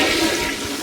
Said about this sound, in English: Do you mind flushing Drake Bell down the toilet real quick?